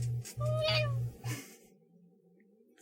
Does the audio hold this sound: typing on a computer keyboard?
no